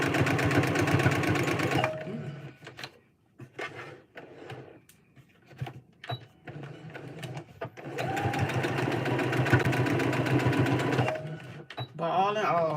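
A home sewing machine stitches in steady, fast mechanical runs, stopping and starting between bursts, with a woman chatting casually over it and a few small clicks and handling sounds in the pauses.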